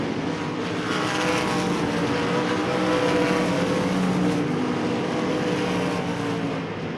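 Race cars at Devil's Bowl Speedway during a feature event, a dense, continuous engine roar from a pack of cars lapping the track, loud and steady throughout with no voices.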